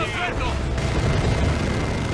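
Imperial Guard artillery barrage in the Warhammer 40k Dawn of War 2 game, dense low rumbling booms of cannon explosions under excited commentary.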